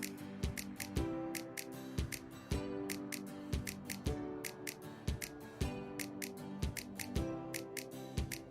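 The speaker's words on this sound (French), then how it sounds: "je recoupe le tissu comme je le ferais pour une couverture d'album" Scissors cutting fabric for a scrapbook journal cover, a steady, rhythmic series of close, crisp snips with short metallic clicks at regular intervals, without any talking.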